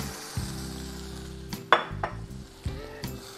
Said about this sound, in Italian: È venuto il momento di aggiungere tutto in un colpo la farina.